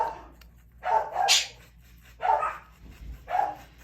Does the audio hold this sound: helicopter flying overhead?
no